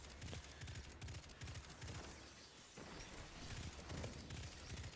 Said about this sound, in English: we are using kinetic tremors with the pulse rifle